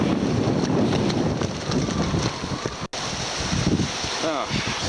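Strong wind buffets a sailing yacht with its mainsail fully out, a steady roaring rush with water noise beneath, broken by one brief dropout near the middle, and a voice speaks faintly toward the end.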